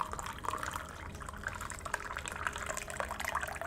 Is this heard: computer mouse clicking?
no